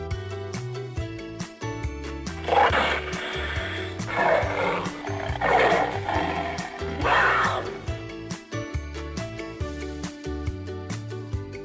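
A panther roars in several rough, growling bursts over steady background music, loud and close, repeating roughly every second or two.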